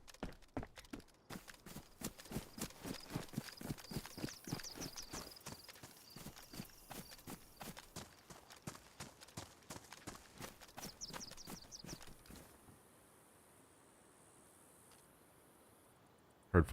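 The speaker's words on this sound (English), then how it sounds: "Heard footsteps. Player." A player's footsteps in the video game DayZ thud in a steady rhythm for about twelve seconds, fairly close and moderately loud, then stop, leaving faint background ambience.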